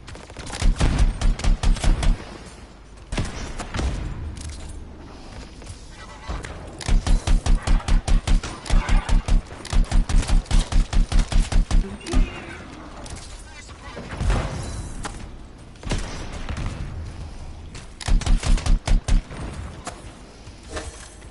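Video game gunfire comes in repeated rapid bursts of sharp automatic shots, loud and close, separated by short pauses, with a voice talking between and over the volleys.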